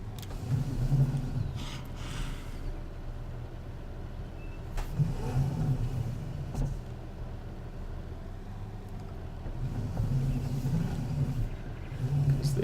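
A tractor engine in Farming Simulator 19 cranks and starts, settling into a low rumbling idle that swells and eases, with a few clicks and thumps, steady and moderately close, without talk.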